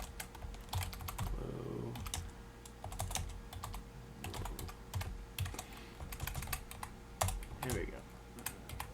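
Computer keyboard typing of Python code into a text editor: rapid, irregular key clicks running close and steady throughout, with a person speaking briefly over the tapping.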